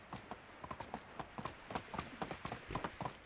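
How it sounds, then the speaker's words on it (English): Hooves of a horse clip-clop in quick, uneven rhythm in the medieval game Medieval Dynasty, close and fairly quiet, with no other sounds over them. "I'm actually on a horse right now."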